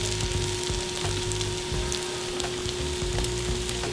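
Rice for a vegan green bean lubia polo, layered with cinnamon, sizzles steadily in a pot over high heat, a dense continuous crackle and spatter with no talking.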